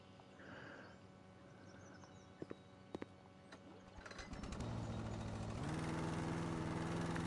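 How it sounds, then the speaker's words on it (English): Lawnmower engine from the House Flipper game starting up and settling into a steady loud drone, preceded by a few clicks and ambient noise. "Let's get that lawnmower back out and finish what we was doing here."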